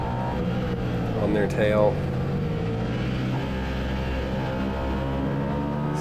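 A race car at Hallett during a CMRA race drones along at low RPM in the wrong gear, a steady in-car engine hum with a brief rise in pitch, heard under the driver's talking.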